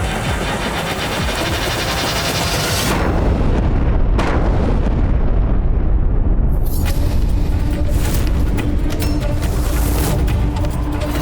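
Mughal cannon fire in a battle scene, heavy booming blasts and rumbling explosions that merge into a loud, continuous roar with crackling debris, near and dense throughout, with no talking.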